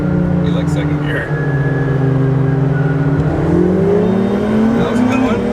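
A car engine drones steadily while the driver runs through the gears, its pitch holding, then stepping up and rising again after a shift, loud and close throughout.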